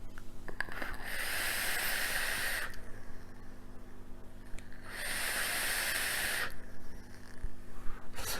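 Vapour hissing from a Zeus RTA atomizer fired at 40 watts, two long soft breathy rushes of several seconds each separated by quiet, faint and close.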